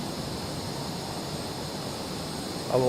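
An F/A-18E Super Hornet, a US Navy jet in the flight sim MSFS 2024, roars through a rough takeoff, a steady, loud broadband jet rumble that swells slightly near the end.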